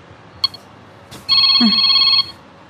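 A cellphone rings with an incoming call, a short electronic tone sounding once, close and clear after a couple of faint clicks, with a brief voice cutting in under it.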